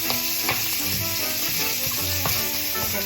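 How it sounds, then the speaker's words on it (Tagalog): Garlic sautéing in a little oil in a pan with browned pork, a steady loud sizzle with occasional stirring scrapes, close up and continuous without talk. "Lagyan natin ng kaunting mantika at magigisa tayo ng bawang."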